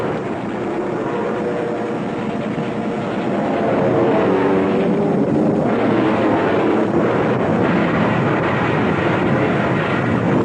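A military bomber airplane droning steadily, a loud continuous engine roar that swells and grows slightly louder midway, with no voices.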